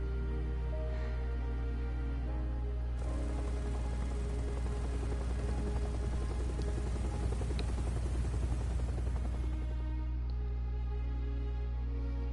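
A helicopter in the video game Resident Evil 7: a steady, heavy rotor drone holds throughout, with a fast chopping beat that swells in the middle and then fades back to a low hum.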